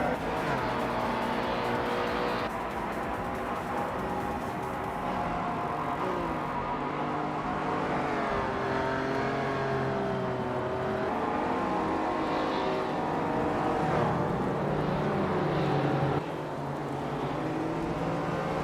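Race car engines roar steadily through a video game race, a Porsche 928 GTS among the pack, with multiple overlapping engine tones shifting pitch as cars run nose-to-nose, loud and continuous throughout.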